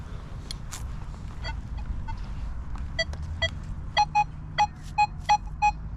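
A metal detector sounds a target in the field, reading 43 on its ID: scattered short chirps early on, then a regular series of six crisp, even beep tones over a low background hum.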